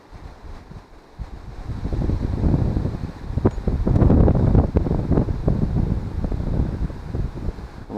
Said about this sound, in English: The wind is annoying.